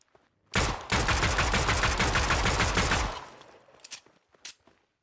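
Rapid automatic gunfire from a custom Verse-built weapon system in a Fortnite UEFN game, a loud, dense burst lasting a few seconds that tails off into scattered shots.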